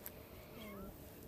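A cat meows faintly in the background, a soft drawn-out call over low room noise, with no talk over it.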